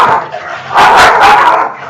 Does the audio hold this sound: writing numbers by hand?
no